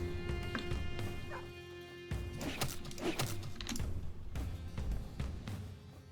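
A dog in a turn-based video game gives a few short yips and barks amid game sound effects and clicks, moderately loud against a steady busy background.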